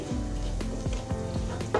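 Oil sizzles steadily in a pan while a utensil scrapes and taps rhythmically several times, close and moderately quiet.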